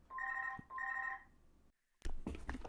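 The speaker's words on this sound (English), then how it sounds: "What a moment to get the phone to ring." A telephone ringing during an online rapid chess game, two bursts of electronic ring tone, then a pause and a sharper clatter of handling noise close by.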